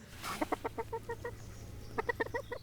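A chicken clucks close by in two quick bursts of short rhythmic clucks separated by a brief pause, over a faint low background hum.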